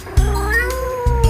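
A white cat sits by a pond and meows, two clear drawn-out meows close and loud, separated by a brief pause.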